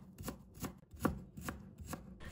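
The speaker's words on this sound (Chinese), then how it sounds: "再改刀切成丝" A knife cuts ginger into shreds on a board with a quick, steady run of about seven crisp taps, close and moderately loud, one hit landing harder than the rest.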